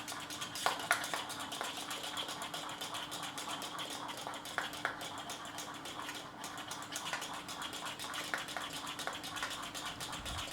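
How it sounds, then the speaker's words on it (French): A shea and jojoba hair balm mixture is stirred in a container, producing soft scraping and clinking of a utensil against the sides in irregular taps over a quiet background. "Je continue d'agiter, il faut agiter ce mélange pendant au moins 3 minutes."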